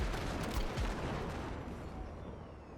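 A tank gun fires in Cyberpunk 2077 with a loud, dense blast whose broad rumble fills the space, then slowly fades and thins, with no talking over it.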